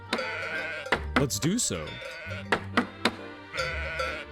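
Sheep bleat repeatedly at a sheep farm in the video game Let Them Trade, a run of wavering, close bleats overlapping one another while a person talks over them.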